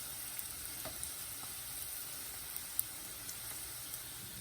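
Piroski fry in a thin film of oil in a pan, a soft steady sizzle with scattered small pops and crackles, faint and close, with no voices.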